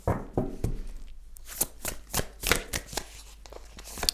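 Tarot cards being shuffled by hand, a quick run of crisp riffling bursts and soft slaps in a quiet room, close and fairly clear, with no one talking.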